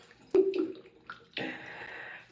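Tap water left running during a hair wash with conditioner, heard as a splashing, hissing stream that starts after a brief knock and a few faint clatters, then continues steadily to the end.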